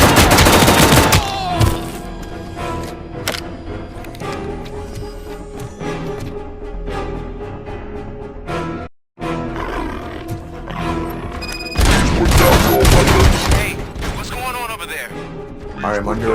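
ED-209 robot from RoboCop: Rogue City opening fire in a game attack: loud bursts of rapid gunfire and heavy mechanical roars, dense and continuous with a brief silent gap midway, then a renewed intense barrage.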